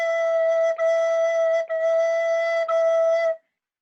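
A recorder holds the note E in four steady, even tones with short gaps between them during a beginner lesson, close and clear with no talking.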